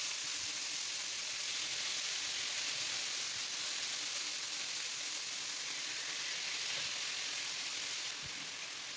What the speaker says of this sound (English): I'm going in with my marinated pork and I'm going to sear it on both sides